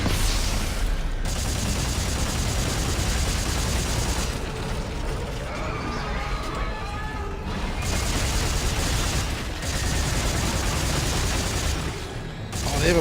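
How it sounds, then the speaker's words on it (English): Monster projectile attacks in the video game Dead Space 3: dense, continuous bursts of gunfire-like popping and booming under the action, loud throughout, with brief lulls, mixed with mechanical game noise. "Oh, they have a projectile attack."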